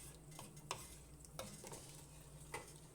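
A spoon stirs dill pickle soup in a pot, giving a few scraping clinks against the metal over a soft, continuous simmering sizzle, close by with no voices.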